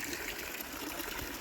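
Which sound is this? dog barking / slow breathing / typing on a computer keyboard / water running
water running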